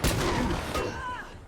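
Gunfire in the video game State of Decay 2, with loud booming shots at the start, another report midway, and a sharp crack at the very end over a rumbling, echoing background.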